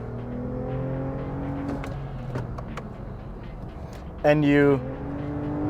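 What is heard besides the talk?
Toyota Avalon TRD engine revving after downshift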